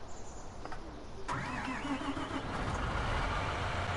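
A car engine cranks and catches after an engine swap, then settles into a steady running idle that holds close and moderately loud without any talk.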